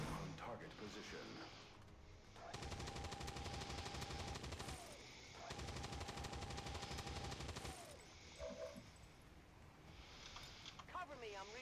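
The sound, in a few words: gunfire from the video game XCOM 2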